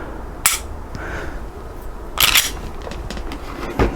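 Training pistol shots fired at an iTarget Pro laser target: a few sharp, loud snaps spaced about two seconds apart, each a brief, bright crack with light handling noise between.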